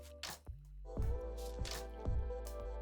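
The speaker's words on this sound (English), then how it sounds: "we're going to pour 600 to 700 milliliters of water into our" Water poured into a film development jug, 600 to 700 millilitres for mixing colour developer: a faint, close splashing and glugging stream with a few drips, steady for about three seconds.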